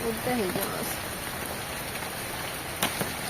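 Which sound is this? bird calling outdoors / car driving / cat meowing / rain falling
rain falling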